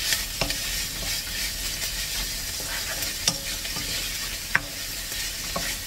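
Curry with fresh coriander leaves stirred and mixed in a pan, a steady soft scraping and sizzling bed with a few sharp clinks of the spoon against the metal.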